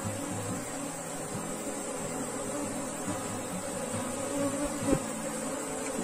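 Honeybees buzzing at an open hive during queen marking, a steady dense drone of many bees close by with a brief knock near the end, no talk.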